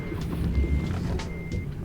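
Steady electronic reversing beeps from a Kenworth W900 semi truck backing up in American Truck Simulator, a repeating tone over a low engine rumble, loud and close with no talk.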